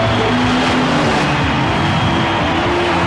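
Drag racing car roaring at a 1990 NHRA event, a loud continuous engine blast with dense, gritty roar throughout and no pauses.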